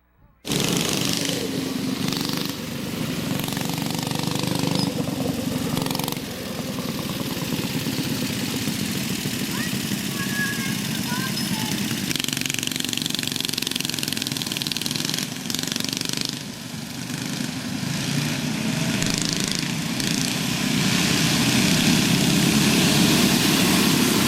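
Several go-kart engines on a backyard dirt track during a race restart, a continuous buzzing drone that holds steady and swells as the karts accelerate down the back straight, fairly close and loud throughout.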